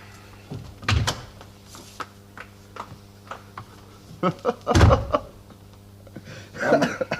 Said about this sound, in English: would somebody mind opening this door for me?